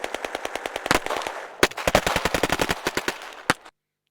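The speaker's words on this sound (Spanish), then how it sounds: "Básicamente son disparos de fondo" A background gunfire sound effect played back in editing software: rapid automatic bursts of machine-gun shots, some isolated louder cracks, fairly close and sharp, ending abruptly in silence.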